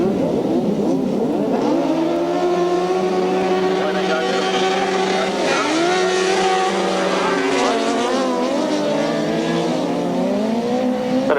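Grasstrack sidecar racing outfits at Stelling Minnis in 1993 roar together around the course, engines wailing and shifting pitch continuously and loudly throughout, with a commentator's voice audible over the din.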